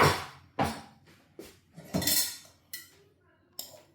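A spoon clanks against a pot while ukwa, African breadfruit, is stirred with Scotch bonnet pepper, giving a series of sharp metallic knocks spaced about half a second apart, close and loud.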